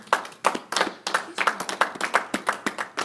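A church congregation claps in a quick, steady rhythm of sharp hand strikes, close and fairly loud, continuing evenly throughout without pause.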